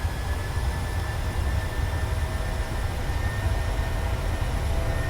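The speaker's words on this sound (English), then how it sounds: "Set takeoff thrust" PMDG 737-700 jet engines spooling at takeoff thrust in MSFS, a steady loud broadband roar with deep low rumble and faint high whine, continuous throughout with no speech.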